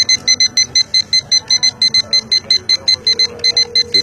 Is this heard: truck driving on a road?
no